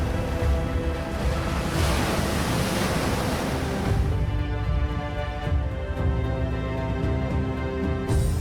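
Ocean surf rolls continuously onto the Namibian coast, where desert meets sea: a loud, dense, unbroken wash of breaking waves with no voices.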